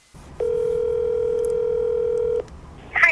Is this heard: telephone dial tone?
yes